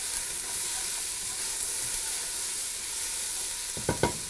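Onions frying in a hot pan, a steady soft sizzle throughout with a couple of brief scraping stirs near the end, close and unaccompanied by talk.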